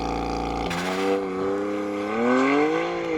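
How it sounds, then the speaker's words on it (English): A BMW 1 Series launches hard under launch control, the engine snapping from a steady idle-like drone into a loud rising rev that climbs through the gears, close and continuous. "Launch control is active, here we go"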